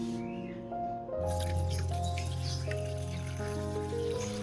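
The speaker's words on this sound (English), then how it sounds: "Next, I will filter out all the sediment, keeping only the clear liquid containing nutrients." Fermented banana and rice liquid drips and trickles through a filter, making soft, wet, close-up dribbling sounds that run steadily with a low background hum.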